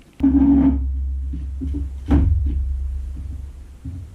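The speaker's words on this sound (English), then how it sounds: "Let me go ahead and get this chair up on the sawhorses here." An upholstered chair is set up on sawhorses in an upholstery shop, giving a heavy thump at the start and a second knock about two seconds later, with low rumbling handling noise between and no talk.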